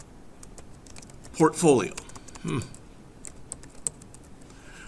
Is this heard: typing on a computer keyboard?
yes